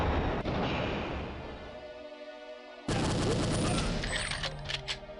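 Shotgun blasts from the video game Perfect Dark on PC, loud booming reports that cut off into a brief gap before another burst of heavy gunfire with ringing tails.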